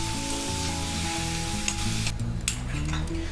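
Chicken mince frying in a pan over a medium flame, a steady close sizzle with occasional stirring scrapes and a low hum underneath.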